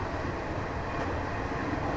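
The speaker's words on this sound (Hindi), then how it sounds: "शाहजहाँपुर से रोजा जंक्शन पे हमारी ट्रेन जो है वो आके रुकी" Garib Rath Express on Indian Railways, steady broadband rumble of the train rolling along at a constant level, no voices.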